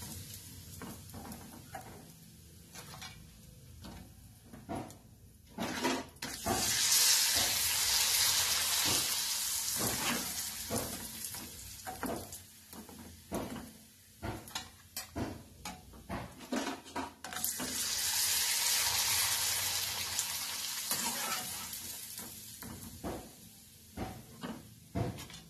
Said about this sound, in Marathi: आता हे मी तळेत ह्यात मिरची घातलेली आहे